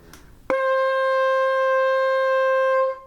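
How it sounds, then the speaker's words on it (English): A single sustained alto saxophone note A sounds clearly after a short breathy lead-in, held steady for over two seconds before stopping. "A sounds like this."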